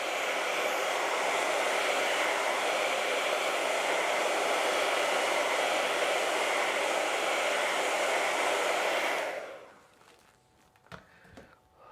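A hair dryer blows steadily on an acrylic painting of a country mailbox on a rural road, a loud, even rushing whoosh for about nine seconds before it cuts off, leaving faint handling clicks.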